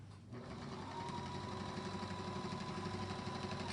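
A sewing machine stitching quilt binding in the ditch runs steadily after a brief quieter start, a continuous close mechanical whir with a constant motor tone and no talking.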